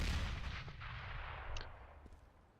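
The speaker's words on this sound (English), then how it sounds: "Nice nade onto Crispy, puts him down to 50 HP" A grenade bursts in a Counter-Strike match as a loud, booming explosion that fades into a rumbling tail over a couple of seconds, with faint distant clicks near the end.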